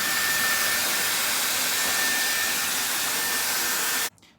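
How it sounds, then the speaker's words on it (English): A Dyson Airwrap blows steadily on damp hair, a loud continuous airy whoosh with a faint high whine that holds evenly, then cuts off abruptly near the end. "I'm just going to blow dry my hair, but leave it quite damp"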